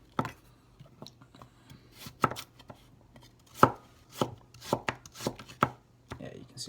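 A Harukaze AS 240 gyuto, a flat ground knife, chops on a cutting board in a series of sharp, irregular knocks, some close and loud, others lighter, with no talking over them.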